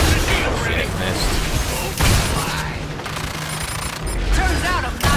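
Rapid gunfire from the sci-fi hunting game Evolve, dense bursts of shots with booms and mechanical clatter running nearly nonstop and loud, layered with game effects.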